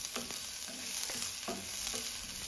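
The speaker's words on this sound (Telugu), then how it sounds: "ఇప్పుడు సన్నగా తరిగినటువంటి ఒక చిన్న ఆనియన్ని ఇందులో వేసుకొని ఫ్రై చేసుకోవాలి." Chopped onion and garlic frying in a pan, a soft steady sizzle with a spoon stirring in several quick scrapes, close by and without speech.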